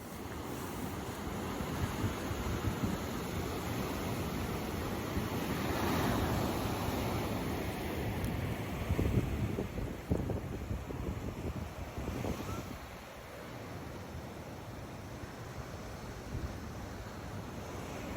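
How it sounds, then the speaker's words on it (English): Ocean waves wash steadily against the shore under constant wind buffeting the microphone, a continuous roar that swells and falls a little, with no talking. "So enjoy this 20-second visual of the ocean with me"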